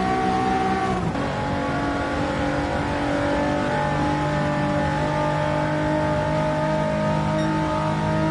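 A race car engine in an 80s race in Gran Turismo 7 drones at high, steady revs with a tonal whine, after a brief shift near the start, loud and close with no talk.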